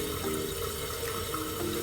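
A toilet tank refills after its float valve has been adjusted, giving a steady, close rush of running water with a faint hiss that holds level throughout.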